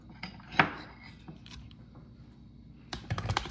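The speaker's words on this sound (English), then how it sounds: "Go ahead and mix it around just a little bit more" Smoothie ingredients get stirred in a container, with scattered clinks and scrapes of a utensil against the sides, one sharp knock early on and a quick burst of clatter near the end, with no talk.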